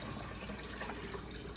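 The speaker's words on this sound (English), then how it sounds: "So I have the zero water tap water filtered, and I'll put it into the distiller." Filtered tap water from a Zero Water filter pouring steadily into a distiller, a continuous soft rushing splash that runs without a break throughout, with no talk.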